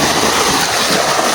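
River water rushes in a loud, steady, broadband wash with no break or distinct splashes, close and uniform throughout.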